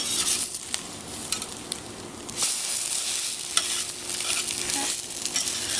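French toast fries in butter in a pan with a steady broadband sizzle, joined by occasional scraping and stirring noises from a utensil; no voices.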